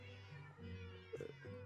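Cats in a Minecraft cat farm meow in overlapping bursts, several short calls close together over a steady low game background, with no talking.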